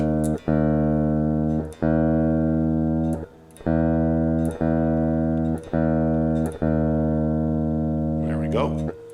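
Open E string on an electric guitar plucked repeatedly into a Zoom R20 tuner, each note ringing in a strong sustained tone before the next pluck, about seven times in succession, close and loud.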